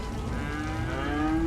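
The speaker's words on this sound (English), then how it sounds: "Cow, and it's eating." A cow in the Cities: Skylines game gives one sustained, close moo whose pitch rises slightly toward the end.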